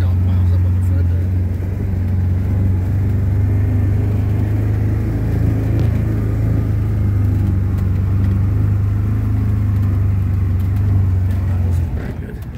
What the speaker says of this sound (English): I'll try to do a little plow here on low and four-wheel drive